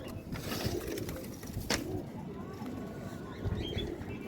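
Pigeons in a rooftop loft in Imbaba, Cairo, coo steadily at close range with soft chirps and a brief flutter of wings, while someone talks faintly in the background.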